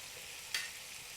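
Garlic sizzling in oil with rosemary in a Cuisinart MSC-600 multicooker, a steady soft hiss with one brief sharper crackle as it is stirred.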